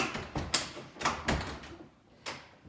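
An unfamiliar door lock on a door to a screened porch in a house is worked by hand, giving a few sharp metallic clicks and clacks spaced unevenly, close by, with quiet between them.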